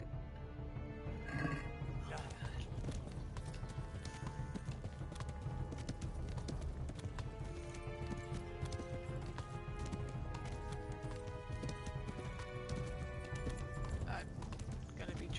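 A video-game horse gallops continuously with rapid, steady hoofbeats under a constant wash of noise and music, with occasional voices over it.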